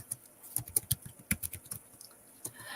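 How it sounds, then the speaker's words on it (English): Names being typed on a computer keyboard: a brief, uneven run of close, crisp keystrokes with short pauses between bursts, and no voice. "So now I'm just typing out names onto the thing."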